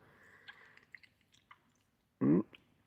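A tough Chinese snack is chewed with faint, scattered mouth clicks and crunches close to the microphone, ending in one louder, longer crunching bite.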